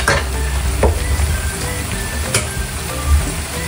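Pork estofado with saba banana, tomato sauce, sugar and ketchup sizzling in a pan while being stirred, with a steady frying hiss and a few sharper spoon scrapes against the pan, close and fairly loud.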